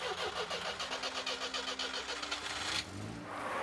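A truck engine starts and runs before setting off for Luhansk in eastern Ukraine. It is a loud, steady rumble with a rapid chugging pulse, then it drops abruptly to a lower, quieter idle near the end.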